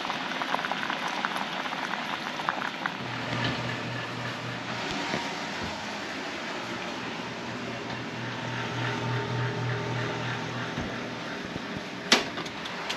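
Carrots simmering in a pot on the stove, a steady dense bubbling and fizzing that runs without pause, close up, with a low hum partway through and a brief clink near the end.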